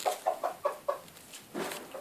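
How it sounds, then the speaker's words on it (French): A rooster makes a series of about five short, evenly spaced clucking calls close by, followed by a longer, louder drawn-out call, with no talk. "c'est le coq qui fait du bruit"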